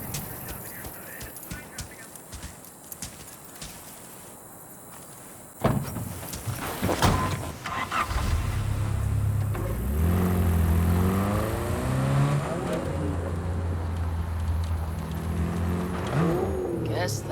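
A car driving in Cyberpunk 2077, its engine rising into a steady revving drone with shifting pitch after a quieter stretch, loud and close, with some talking over it.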